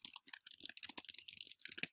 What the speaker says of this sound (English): all you're doing is double clicking on the line and then typing in